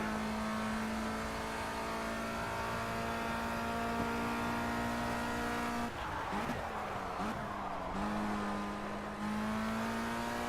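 A formula race car engine in a racing video game holds a steady high-pitched drone, then dips and revs through downshifts and braking near the middle, with faint tyre noise, before settling back into a sustained whine.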